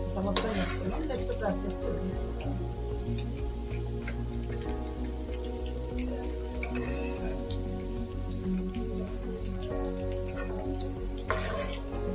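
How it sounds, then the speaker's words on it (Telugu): Chillies frying in a pan, for a bitter gourd pickle, sizzle and crackle steadily up close under a low constant hum, with occasional stirring scrapes and no talk. "మిరపకాయ ఇలా ఫ్రై చేసుకోవాలి"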